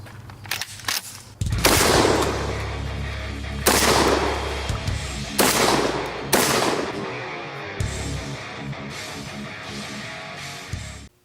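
Gunshots fired at a target downrange outdoors: several loud, sharp blasts in irregular succession, each with a booming tail, alongside steadier rumbling noise between them.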